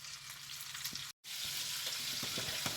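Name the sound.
food browning and caramelising in a pan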